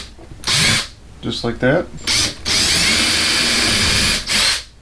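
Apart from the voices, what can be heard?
power drill drilling holes through a drill guide for cabinet pulls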